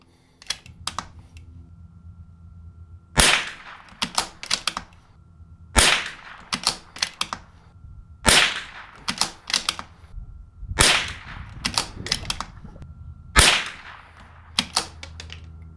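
A custom rifle fires cheap high-velocity .22LR rounds at the range, about five loud sharp cracks spaced a couple of seconds apart, each with quick trailing echo and small clicks and handling noises in between.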